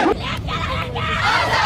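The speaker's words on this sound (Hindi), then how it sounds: "अब हमारी आवाजों के बीच RSS मुर्दाबाद के नारे लग रहे हैं" A protest crowd of students chants slogans at a NEET paper leak demonstration, a dense roaring mass of voices shouting in unison, close and loud throughout.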